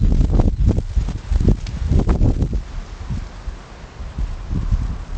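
Wind buffets the microphone in uneven low gusts and rumbling thumps, loud and close, easing into a softer rushing noise toward the end.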